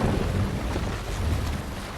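A Viking longship sails across open water in Assassin's Creed Valhalla, with a steady broad wash of wind and waves and a low rumbling swell, no voices.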